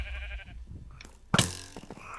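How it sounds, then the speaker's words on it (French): A sheep bleats in a video game, one sudden close cry that rises out of quieter game noise and then trails off into faint background sounds. "Oh, mon mouton chercheur qui vient de se faire tuer."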